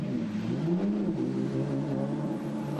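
Ferrari GT race car engine during GT Asia qualifying, a sustained droning engine note that rises in pitch and then settles, steady and fairly close, with other engine hum underneath and no talking.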